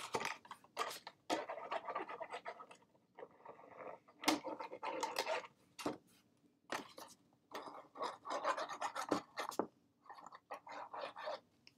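Paper box being rubbed firmly by hand to set its creases, a dry scratchy scraping in quick uneven strokes with short pauses, close and moderately loud with no talking.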